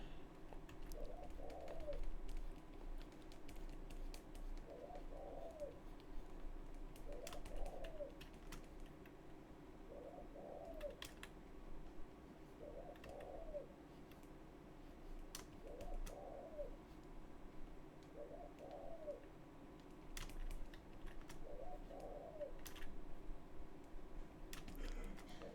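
Pigeon or dove cooing in a steady repeated pattern, about seven soft phrases spaced evenly over steady background hum and faint clicks.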